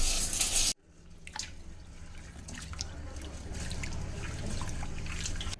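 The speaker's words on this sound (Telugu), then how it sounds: "మంచిగా కడగాలండి." Soaked grains being washed in water for homemade baby cereal, a splash at the start and then trickling and dripping water that goes on softly, with light talking in the background.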